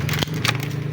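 Clay or hard target struck by a .377 custom mini Kimber pistol shot at an outdoor range, giving a sharp crack followed by a brief crumbling break as it shatters and falls, over a steady low hum.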